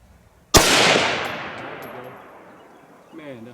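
A single loud, close gunshot from a Radical Arms 6.5 Grendel rifle at an outdoor range, a sharp crack followed by a long rolling echo that fades over a few seconds, with a brief voice near the end.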